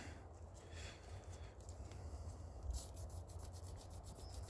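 Soft rubbing and wiping of oil into the metal running surfaces of a Panzer EG200 shotgun, a steady close-up scuffing with a few brief sharper strokes near the end.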